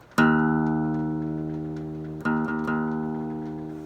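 An open guitar low E string, tuned down, is plucked and rings with a deep sustained tone that slowly decays, then is struck again twice near the end.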